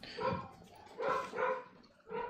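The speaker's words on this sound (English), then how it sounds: "can you hear my dogs?" Several dogs bark in short bursts from a nearby spot indoors, with three or four clustered barking episodes over a couple of seconds, moderately loud and with no talk over them.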